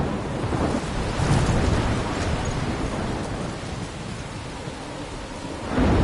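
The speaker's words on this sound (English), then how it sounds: "I'm trapped in a storm?" A thunderstorm in the video game Life is Strange, with a steady loud wash of heavy rain and rolling thunder swelling near the start and again at the end, no voices.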